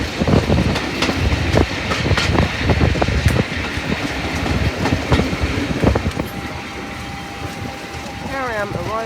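A diesel train on the West Somerset Railway pulls into Blue Anchor station, its wheels clattering steadily over the rail joints at close range. It eases toward a stop as a high whine rises near the end.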